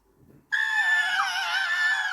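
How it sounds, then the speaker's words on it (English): Several girls scream in fright together, a sudden loud, sustained high-pitched shriek that bursts in after a short quiet lull and holds steady to the end, with wavering pitch. "Lucy and her friends screamed"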